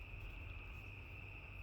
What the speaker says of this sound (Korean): 매미 소리 울리죠?